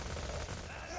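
Dense gunfire in Borderlands 2, a rapid, continuous burst of overlapping shots with a busy, noisy texture, heard under faint game ambience.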